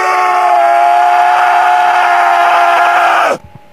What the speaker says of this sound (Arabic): وخرجت منه صرخة قوية